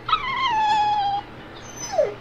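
A dog in Tales of Berseria gives a drawn-out whimpering yelp, then a short whine follows after a brief pause, close and clear over faint background hum.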